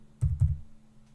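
A couple of soft keystrokes on a computer keyboard as a name is typed, two short clustered taps close together over a steady low hum, then quiet.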